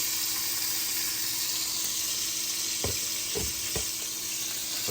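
Flounder fries in an uncovered pan with a constant close hiss of sizzling oil, broken near the end by three quick knocks or bumps against the pan.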